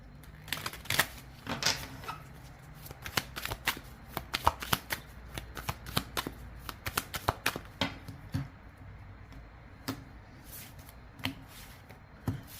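Oracle cards shuffled and handled at close range, a dense run of crisp riffling snaps and papery flicks in irregular bursts that continue throughout.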